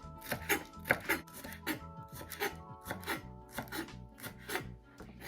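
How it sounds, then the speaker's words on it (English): A knife chops a stalk of green onion on a board in a quick, steady run of crisp close thuds, each cut clearly separated, with no voices. "I've just got about 1 of the, I guess, little stalks of the green onion, and I'm just gonna just chop that up"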